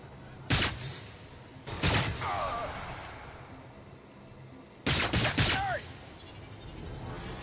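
Gunfire in the video game Agents of Mayhem comes in three short, sharp volleys of rapid shots, each lasting about a second, with a quieter ambient bed and brief electronic warbles in between.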